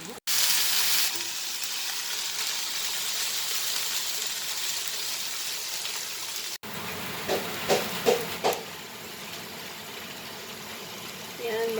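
Tofu (tokwa) fries in a pan for sisig with a steady, loud sizzle. The sizzle drops out partway through, and clattering stirring noises follow.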